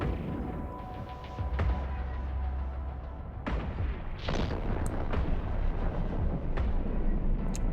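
Weapons fire in an EVE Online space battle: a steady rumbling bed broken by several scattered sharp blasts and booms, without any voices.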